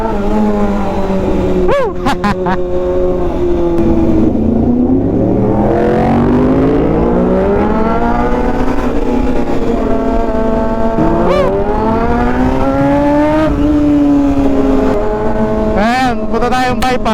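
A Yamaha MT-10 motorcycle engine revs and climbs through its gears on an expressway, loud and close, with wind noise throughout, a rider's cheer, and someone talking over it.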